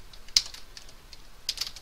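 A few quick keystrokes on a computer keyboard, faint and close, come in two small bursts separated by a brief pause, with no talking.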